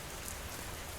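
Rain falls at night in a steady, soft, even patter that fills the whole moment, with no voices.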